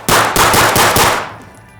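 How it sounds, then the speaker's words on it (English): Rapid string of about seven suppressed pistol shots from a Flux Raider SIG P365, loud and close, fired in quick succession with a short decaying tail at the end. "So as far as shooting this thing suppressed,"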